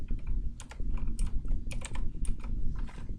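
Code is typed on a computer keyboard, a fast, uneven run of close key clicks over a steady low hum with no talking.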